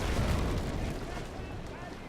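Six-pounder long cannons boom from a sailing warship's rear battery in the naval combat game Naval Action Legends, a dense rumbling volley of overlapping low blasts early on that fades into a lingering roar.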